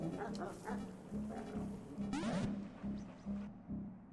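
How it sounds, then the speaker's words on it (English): A game dog in Animal Well barks and whimpers in short yips over a steady hum of game music and ambience, moderately loud, with several bursts spread across the moment. "How am I supposed to deal with that dog?"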